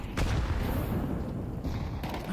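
Grenade explosion in the video game Counter-Strike: a dull boom and rumble with a short burst of crackling gunfire on top, moderately loud, with no voices.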